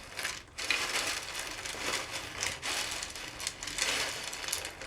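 Crispy besan sev, a fried gram flour snack, crunches and crackles in a dense run of small brittle snaps, close and fairly quiet.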